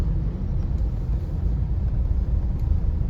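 Steady low rumble of congested road traffic near Masjid Syahid on a Labour Day public holiday, car engines idling and creeping in a continuous dense wash with no clear individual passes and no talk.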